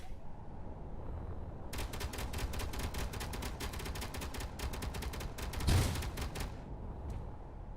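Rapid automatic turret fire in Space Engineers hammers away for several seconds in a steady, close, loud burst stream, with a heavier impact thud near the end before the firing stops.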